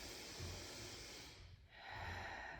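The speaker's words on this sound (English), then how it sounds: "Take a few breaths here." Slow, deep breathing during a pregnancy yoga exercise, a soft airy inhale followed by a long exhale, close and quiet, with no talking.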